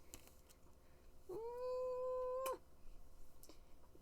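A pet cat named Tiger, being held, gives one clear drawn-out meow lasting about a second, close and fairly loud over quiet room noise.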